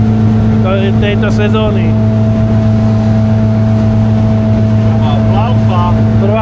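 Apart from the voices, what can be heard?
motorboat engine on the Danube, first ride of season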